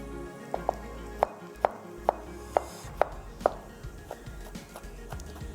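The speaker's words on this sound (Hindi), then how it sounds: "टमाटरों को चॉप कर लेंगे।" Kitchen knife chopping tomatoes on a board for a desi dish, eight or so sharp, evenly spaced knocks ringing out over a low background hum, no talking.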